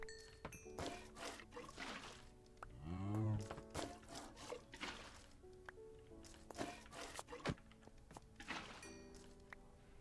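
A cow moos once in the Minecraft video game, a short harmonic low call standing out amid clicks, thunks and game noises.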